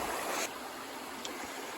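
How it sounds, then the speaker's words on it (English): A stream on an Appalachian Trail hike gives off a faint, steady wash of flowing water, broad and continuous without breaks, with no voices over it. "The refreshing sound of water."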